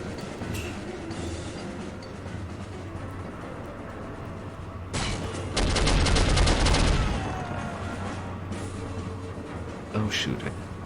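Bursts of video game gunfire crackle through a loud, busy mix of ambient noise, with the heaviest volley running for a couple of seconds near the middle and short sharp shots near the end.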